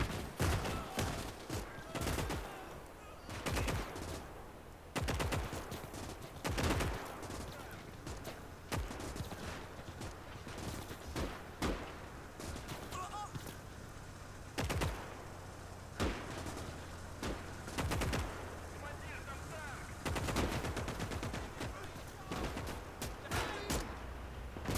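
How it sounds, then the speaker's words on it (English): Battlefield gunfire in the Gates of Hell real-time strategy game's German campaign, with sharp rifle shots and bursts of fusillade cracking repeatedly and irregularly throughout, loud and dense against a steady background rumble. "There, look, somebody shot back."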